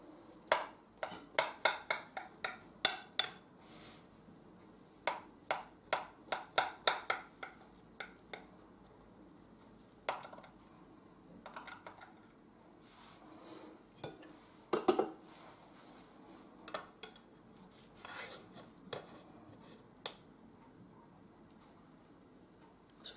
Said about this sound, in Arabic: باغا نقطع لكم طريف باش تشوفوا كيفاش كتجي من الداخل